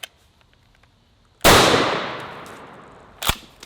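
A full-size 12 gauge shotgun slug, a one-ounce Tomahawk Cleaver, fires in a single loud, sharp blast that rings out and decays over about two seconds, followed by a fainter second crack.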